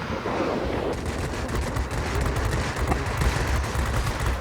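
Aircraft machine guns fire from a Sea Hawk fighter in World of Warplanes, sounding as a loud, dense, continuous rattle of rapid shots that runs unbroken throughout.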